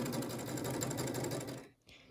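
A sewing machine runs steadily while stitching a quilt border, its rapid mechanical whir close and continuous before stopping abruptly near the end.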